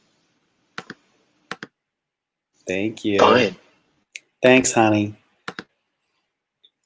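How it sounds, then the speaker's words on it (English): A few sparse computer keyboard keystrokes click sharply in short isolated bursts, interleaved with brief spoken replies from a person nearby. "Your keyboard's annoying."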